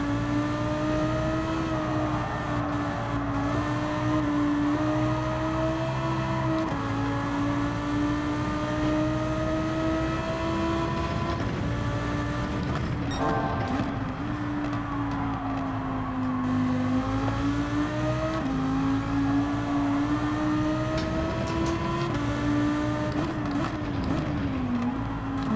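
A Group 4 race car engine drones continuously at Watkins Glen in GT7, its pitch climbing and dropping through repeated gear shifts across a steady, loud run with no talk.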